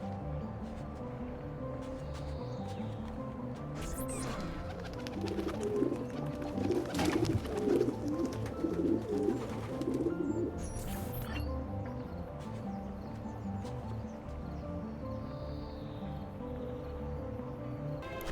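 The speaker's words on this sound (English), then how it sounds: "it looks to be the pigeon coop" Pigeons coo softly at a pigeon coop in the video game Assassin's Creed II, low murmuring calls repeating over a quiet ambient background, with a busier stretch of fluttering and cooing in the middle.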